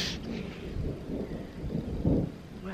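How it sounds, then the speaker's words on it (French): Low rumbling thunder from an approaching storm rolls in the distance, a dull swelling grumble with a stronger boom near the end, mixed with faint wind noise. "Faut que je me dépêche, il y a de l'orage."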